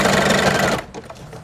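A sewing machine running loud and close in a steady grinding whir while mass-making pockets, then it suddenly stops as if it has jammed, leaving a few faint clunks and knocks.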